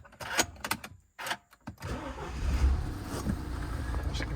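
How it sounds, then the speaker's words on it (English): Starting a 2015 Mini Countryman Cooper D ALL4 diesel: a few clicks and cranking bursts, then the engine catches and settles into a steady close idle rumble. "if I start the engine up now"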